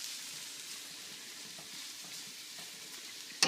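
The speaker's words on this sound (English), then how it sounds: "So you're going to let this saute maybe 3 to 5 minutes. Tossing it around the pan." Red cabbage sautéing in oil in a pan gives a steady, soft sizzle and hiss throughout, with a brief clatter at the very end as it is tossed.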